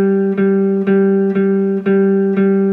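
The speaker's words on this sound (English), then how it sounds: "I'm just gonna play a G note, and I'm gonna play straight eights" A single G note played repeatedly in straight, even eighths on a sustained electronic-sounding instrument, six evenly spaced attacks at a steady moderate tempo, loud and alone.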